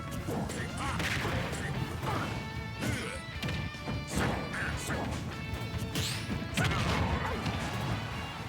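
In the Super Smash Bros. Ultimate video game, a forward smash lands amid repeated crashing and whacking hits layered over game music, faint overall and busy with sharp impacts and whooshes.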